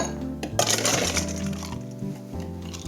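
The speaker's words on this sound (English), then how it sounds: "We're gonna pop some ice in here. There's 1 big cube. A couple little cubes." Ice cubes, one large and a couple of small ones, dropped into a cocktail shaker for an Angel Face cocktail, giving a few quick clinking knocks close by, with no talking.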